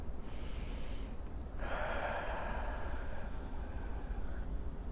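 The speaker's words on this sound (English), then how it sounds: "Breathe in and breathe out." Deep breath drawn in and let out during a guided meditation, a soft rushing exhale and inhale over steady low background rumble, close and moderately loud.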